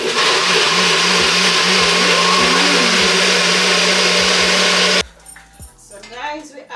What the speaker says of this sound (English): I'm going to puree the sauce now